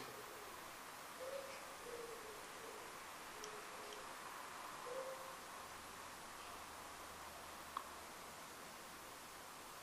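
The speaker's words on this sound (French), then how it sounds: "On dirait une mouette ou je sais pas ce que c'était" Faint, brief bird-like cries, a handful of short hoot-like calls scattered over the first few seconds, sound distant against steady hiss inside a quiet retirement home, with one sharp click later.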